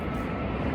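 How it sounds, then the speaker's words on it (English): An airplane passes overhead outdoors beside a pair of small backyard dwelling units, a steady, full-bodied low roar that stays loud and even through the short moment with no talk over it. "Wait for that plane to go by."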